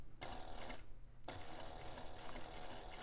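A sewing machine stitches steadily around the perimeter of a bag overlay, guided by an edge foot, running in a fast close whir with a brief pause before resuming.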